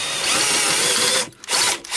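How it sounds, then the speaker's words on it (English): A power drill bores out the holders inside a Sencore Handy 75 RC146 radio during restoration, a loud, close high whine that runs steadily, then cuts out briefly and restarts in short bursts. "only way is to drill them out"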